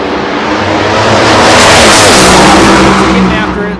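NHRA Pro Mod drag race cars launch down the ZMAX Dragway strip with a loud, sustained, roaring engine blast that swells and holds across the whole moment, while an announcer's voice runs underneath.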